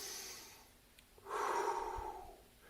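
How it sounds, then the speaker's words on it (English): A person breathing in and out for a found-object puppet, a soft airy inhale followed by a louder, longer breathy exhale, close and with no talking. "Breathe in and breathe out. In and out."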